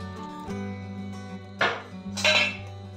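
A cooking pot of boiling mixture is set down in a kitchen beside a gas stove, giving two sharp metallic clanks over a steady hum.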